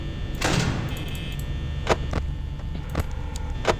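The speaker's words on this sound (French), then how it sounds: "il faut fermer la porte" A security door shuts in the Five Nights at Freddy's night-five office, a broad thud near the start followed by a few sharp mechanical clicks and knocks over a steady background hum.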